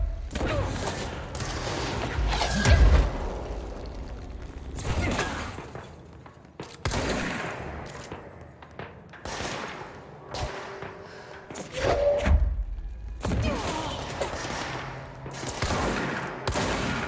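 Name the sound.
shotgun firing in the video game Control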